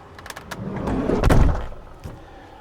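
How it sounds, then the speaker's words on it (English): A camper van's sliding door is pulled along and slammed shut, a rising rumble ending in a heavy close thud, followed by a smaller knock, heard nearby outdoors. "When you go to close it, you can't close this door quietly."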